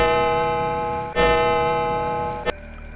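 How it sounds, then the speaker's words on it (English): A clock chimes in a horror story setting, with one long, resonant ringing tone sustained throughout and a fresh strike partway in, loud and alone with no voices. "As the clock struck 12, a long, chilling chime echoed through the house"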